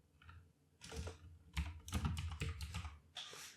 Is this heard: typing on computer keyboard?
yes